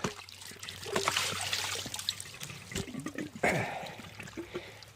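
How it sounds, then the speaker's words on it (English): Water trickling and splashing back into a koi pond, close and fairly quiet, with uneven dribbles and a slightly louder gush near the end. "there's just a little bit of water running back into the pond"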